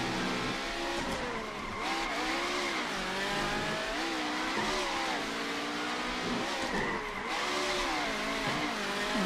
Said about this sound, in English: Turns out in fast cars, it just ends in the most tragic wheel spin you can imagine